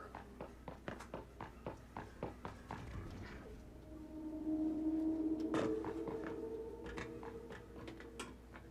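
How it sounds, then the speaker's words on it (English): Footstep effect moving smoothly around a Dolby Atmos speaker setup, steady regular steps near and clear, with a low sustained hum swelling briefly in the middle. "Want to do footsteps?"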